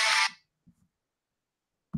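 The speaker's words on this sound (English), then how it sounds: "I forgot to turn off my medicine alarm." A medicine reminder alarm goes off in a brief harsh buzzing burst that stops abruptly, followed by a couple of faint soft knocks and near silence.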